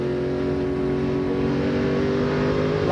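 A NASCAR Craftsman Truck Series truck, heard from onboard, races with its right front tire going flat: a loud, steady engine drone with strong harmonics runs unbroken for a few seconds, no voices.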